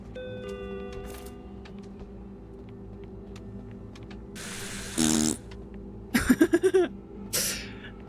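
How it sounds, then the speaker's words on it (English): Fart sound effects in an indie horror video game, a buzzing blurt followed by a rapid pulsing series of loud rasps and a shorter burst at the end, over quiet background tones. "The fart sound effect is surprisingly useful in indie horror games, isn't it?"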